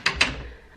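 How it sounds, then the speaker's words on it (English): A door is shut indoors at home, two quick close knocks in succession followed by a brief fading rattle, no voices. "let's shut this door"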